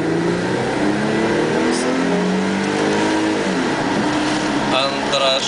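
An Audi A6 accelerating on a road test, its engine note rising steadily and loud throughout, with people talking over it inside the car.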